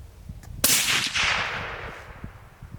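A .308 rifle fires a 168 grain Tipped MatchKing load with Varget powder on an outdoor range, a single sharp, loud crack followed by a rolling echo that fades over a couple of seconds.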